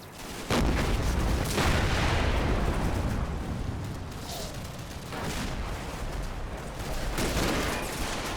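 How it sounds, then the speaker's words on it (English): Sustained volleys of gunfire and heavy booms from light armoured vehicles on a defensive line in the WWII strategy game Combat Mission, Operation Epsom battle at Mondrainville, a dense continuous barrage that stays loud throughout with no talking. "More light armour on the second defence line opens fire."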